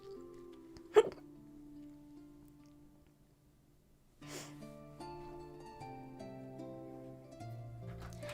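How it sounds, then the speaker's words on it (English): A single sharp hiccup pops near the start, close and loud, over soft background music that continues after it. "Oh, I got hiccup."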